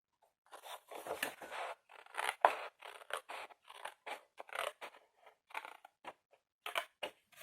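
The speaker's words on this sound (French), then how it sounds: "Donc, je vais couper droit." Scissors cutting straight through paper for a wintry Big Ben advent calendar craft: close, crisp snips in quick irregular bursts with brief pauses between strokes, alone without any talk.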